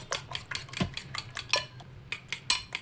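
Eggs whisked briskly in a bowl for an omelette, with a quick run of light metallic clinks as the utensil taps the sides, close and soft, no voices.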